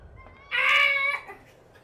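A person imitates bird sounds, producing a single loud, warbling whistle-like call of about 0.7 seconds, harmonic and wavering, standing out alone against a quiet background.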